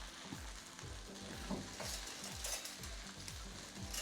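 Fried rice sizzles loudly in a pan while a spatula scrapes and stirs it in a steady, repeated rhythm, close up, with no talking.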